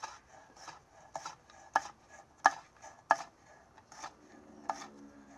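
A kitchen knife slicing fresh jalapenos on a cutting board, making a series of crisp, irregular chopping taps, close and moderately loud, with faint scraping between strikes and no talk.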